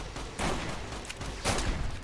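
Two gunshot bursts from Fallout: New Vegas gameplay in a snowy setting, each a sharp broadband crack with a short decaying tail, spaced about a second apart over a steady background hum, with no talking.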